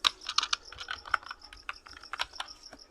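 Someone types on a computer keyboard in a quiet room, with a quick, irregular patter of light key clicks and no voices.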